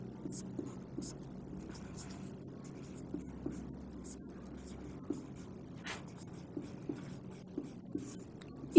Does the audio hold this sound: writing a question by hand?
yes